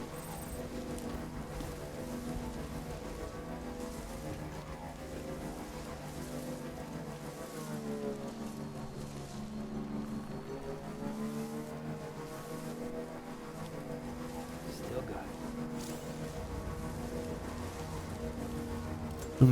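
A vehicle drives in the video game Death Stranding, a steady low engine drone with layered hum and rushing, rain-like noise running evenly the whole time.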